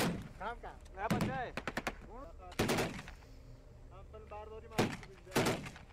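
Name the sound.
gunfire, shooting at suspected points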